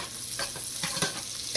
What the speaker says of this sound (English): now what I'm gonna do, I'm gonna fry a little bit of the onion